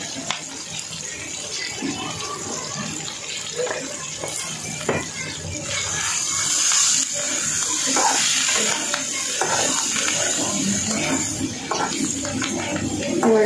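Water poured into a pot while cooking sankar fish, flowing in a steady broad splashing gush that grows fuller after the first few seconds, with kitchen clatter and faint background noise underneath.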